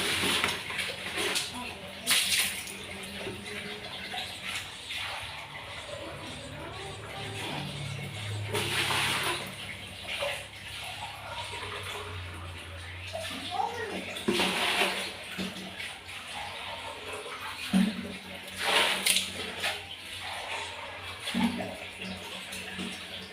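Water runs and splashes in intermittent bursts as a container is rinsed clean before use, with faint voices in the background.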